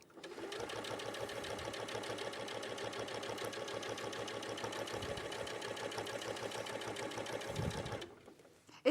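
A sewing machine top stitches bulky fabric with no walking foot, running at a steady, continuous mechanical whir for about eight seconds before it stops, with a couple of soft thumps near the end.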